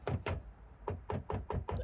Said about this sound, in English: Now get the back end of the screwdriver and use that to sort of knock those studs out